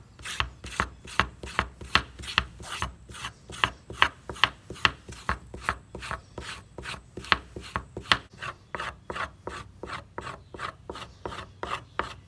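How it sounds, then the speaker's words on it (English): A metal tablespoon scrapes the pulp off a yucca leaf to expose the fibers, making a rapid, even series of rasping strokes, close and moderately loud, with no talking. "how beautifully a tablespoon works for removing the pulp and exposing the fibers"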